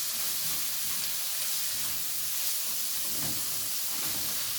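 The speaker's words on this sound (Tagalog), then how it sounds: "Ayan ang pagluluto ng ating menudo" Menudo simmering and sizzling in a pan, a steady hiss with soft bubbling and crackle that holds constant throughout, fairly close with no talking.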